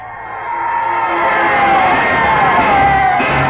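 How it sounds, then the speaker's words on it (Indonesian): A large crowd of many people shouting and yelling in the distance to the east, like war troops, a rising roar of massed voices that swells and holds steady. "Orang banyak berteriak-teriak di sebelah timur. Kedengarannya seperti teriakan-teriakan pasukan perang."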